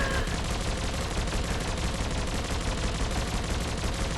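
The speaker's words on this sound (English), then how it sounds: "For reference, here's the beginning gun" A gun in the video game Biomutant fires rapidly and continuously, a dense, loud stream of shots with no pause.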